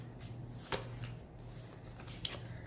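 Tarot cards being handled and pulled from a deck, soft quiet shuffling with two sharp card snaps close by against a faint background hum.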